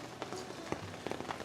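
Steady rain patters on a tent at Lake Superior in the evening, a dense close hiss with scattered louder drops, and no voices.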